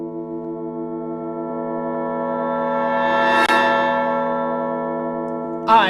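A sustained, harmonically rich bell tone from an Incredibox mod music game rings steadily and loudly for several seconds, swelling toward the middle with a brief bright strike, then a new sound cuts in at the end.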